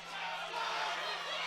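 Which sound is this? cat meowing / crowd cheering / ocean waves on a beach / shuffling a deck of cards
crowd cheering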